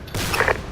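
Burst of gunfire in the Arma 2 military game, a dense fusillade with layered crackling reports that swell briefly and then fade under a lingering rumble, close and fairly loud.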